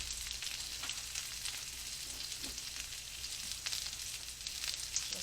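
Birria tacos fry in a pan with a continuous, moderately loud hiss and a scattering of small crackles and spits. No one speaks.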